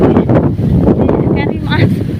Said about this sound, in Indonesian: Angin guys, angin.